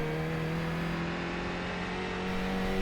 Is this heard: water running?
no